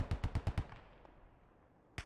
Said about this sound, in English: They're getting hit by some 50 cal fire.